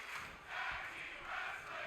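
Wrestling crowd at an All Ambitious Wrestling event chanting in rhythmic, swelling waves, a dense roar of many voices that rises and falls twice within a couple of seconds, with no commentary on top.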